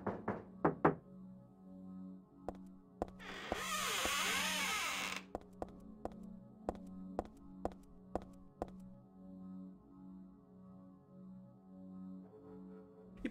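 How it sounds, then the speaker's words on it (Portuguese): Knocks on a bathroom door in the Silent Hill 3 video game, sharp and spaced out in a slow irregular series, with a brief loud rushing noise partway through over a low droning ambience. "tem um momento em que Heather bate na porta do banheiro e alguém bate de volta"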